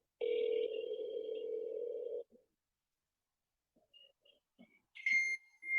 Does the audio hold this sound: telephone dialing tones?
yes